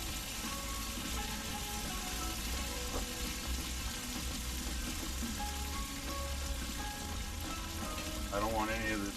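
Pork chops fry in oil in a pan at a campground, a steady, dense sizzle that holds evenly throughout, with faint background voices and a brief whistling tone near the end.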